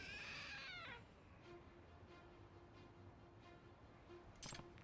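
A trick cat statue in the video game Lost Judgment lets out a single clear meow at the start, followed by quiet ambience and a faint click near the end.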